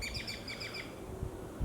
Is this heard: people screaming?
no